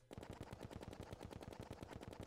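Werewolves in Terraria struck repeatedly with a cutlass, a rapid, steady volley of punchy, crunchy game hit effects running continuously at close range with no talk.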